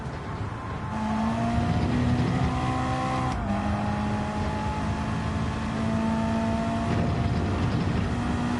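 A car engine revs hard as the car drives fast, the pitch climbing through the gears with a sharp shift break and sustained high-revving drone heard from inside.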